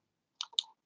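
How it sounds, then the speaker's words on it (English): A couple of quick mouse clicks on a play button, close and crisp, two short taps alone in quiet. "I can just click play"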